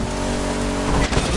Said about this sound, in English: This is a Dodge Challenger RT first generation from 1970.